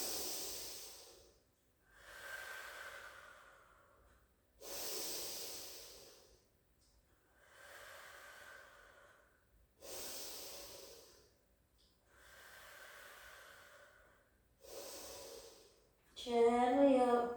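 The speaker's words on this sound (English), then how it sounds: "Deep breaths in and out." Slow, deep breaths in and out during a cardio class cool-down, seven long airy exhalations at a steady rhythm, close and fairly loud, the last one rougher and more forceful.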